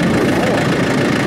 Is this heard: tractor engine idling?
yes